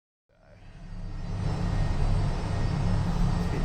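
An aircraft engine at an airport swells from silence into a loud, steady, broadband roar that builds over a couple of seconds and holds close and heavy.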